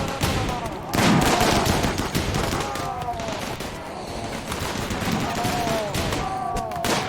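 Repeated bursts of automatic gunfire and scattered shots from a RimWorld colony battle, loud and dense throughout, with a heavy volley near the start and steady crackling fire continuing under faint background voices.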